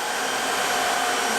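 A robot vacuum cleaner runs with a steady, close motor whine and airy suction hiss that stays constant and unbroken throughout.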